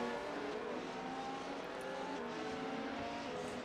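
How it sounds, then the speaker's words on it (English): An F1 race car engine in a racing video game at Interlagos, braking hard into turn one, a continuous high droning whine held steady with faint tire noise, no talking. "as he locks up the brakes down into one"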